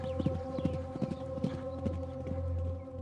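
Several horses with riders clip-clop along in a brisk, uneven rhythm, hooves knocking close and clear over a steady low background hum.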